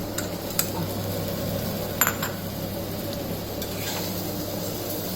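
Ginger shallow frying in a pan with coconut milk dish preparation nearby, a steady close sizzle with occasional sharp clinks of a utensil against the pan, and no voices.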